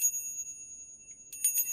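A small bell rung once, then a quick cluster of bright, high, shimmering chimes near the end, close and clear with a faint steady tone in the background.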